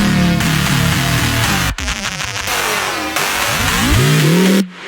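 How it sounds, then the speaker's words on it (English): Synth bass run through a frequency shifter for drum and bass, giving warbling, ring-mod-like gliding tones that sweep down and up, with abrupt cuts between loud sustained passages. "I have this frequency shifter effect right here"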